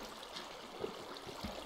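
Water flows in a Minecraft world with a steady, trickling rush, close and continuous, with faint gurgles over the constant wash.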